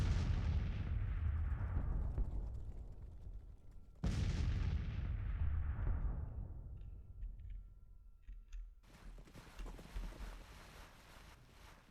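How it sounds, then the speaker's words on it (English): Distant artillery booms in a Grand Tactician Civil War battle: two heavy blasts a few seconds apart, each rolling away in a long fading rumble, followed by scattered crackling gunfire and faint noise. "The Union columns are under some fire from Pillow's division."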